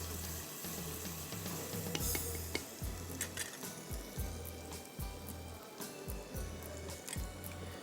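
Onion rings, halved, stir-frying in under half a cup of hot oil for a karahi: steady bright sizzle with rhythmic scraping and stirring strokes about twice a second, close and continuous, no voices.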